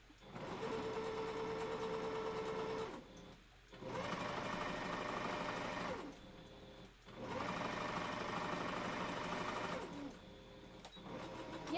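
A foot-pedal sewing machine stitches fabric for a wolf costume tail in three long, steady runs. Its rapid mechanical whirring and clatter stops briefly between runs.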